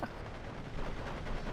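Assault rifle fire crackles in dense, overlapping bursts during a Steel Division 2 league battle, the rapid reports smearing into a continuous distant rattle of combat.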